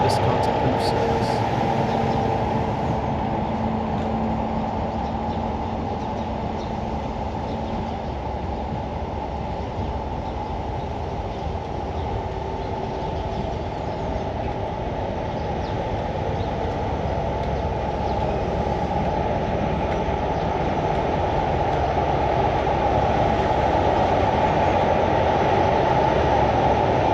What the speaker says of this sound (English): we see a GWR Class 43 castle set consisting of 43042 Tregenna Castle and 43093 Berkeley Castle, passing the signal box as they leave Liskeard